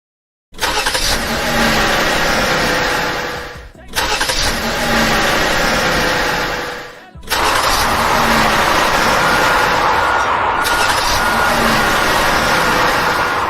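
Car traffic heard from inside a truck: loud, continuous engine rumble and revving from nearby vehicles, cut off by two short breaks, with talking mixed in.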